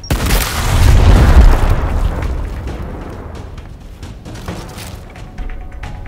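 A frag grenade explodes in the video game Gears Tactics, a loud, heavy boom that swells over the first second and a half and then fades into a long rumbling, crackling tail.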